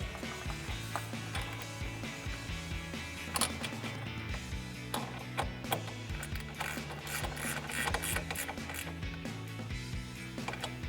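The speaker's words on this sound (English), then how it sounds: "secure that with our 10mm socket" Ratchet wrench with a 10mm socket tightening a nut on a Mustang cold air intake isolator, producing quick repeated clicking strokes at close range, steady and continuous.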